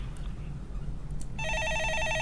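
A telephone starts ringing partway through with a steady electronic trill, loud and close, over a low room hum, in a Korean stock-market call-in broadcast studio.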